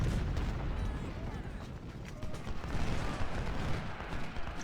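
Musket volleys in the Civil War strategy game Ultimate General: Civil War crackle as a dense, rolling mass of distant gunfire with low booms, continuous and moderately loud.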